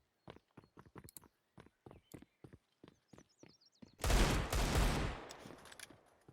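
Desert Eagle pistol shots in Counter-Strike, a run of crisp single reports in an uneven rhythm, then a dense burst of heavier gunfire and noise lasting about a second.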